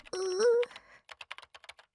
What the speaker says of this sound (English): What is she typing?